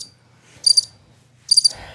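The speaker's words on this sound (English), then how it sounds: "Crickets." Cricket chirps sound in two short bursts of rapid trilling, about a second apart, fairly loud against a quiet background, with no talking.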